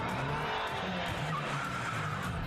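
Cartoon cars in Motu Patlu skid and rev in quick succession, short tire screeches and engine whines overlapping with no talk over them.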